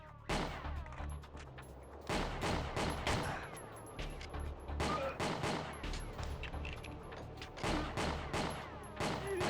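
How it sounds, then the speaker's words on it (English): Shotgun blasts in a retro robot shooter game, loud sharp reports fired repeatedly in uneven bursts, a dozen or more shots with short gaps between volleys. "this guy just keeps firing a shotgun across the damn ages"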